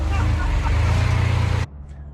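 A Chevrolet C10 squarebody truck engine runs loud and close with a steady low rumble, then cuts off abruptly after under two seconds, leaving near silence.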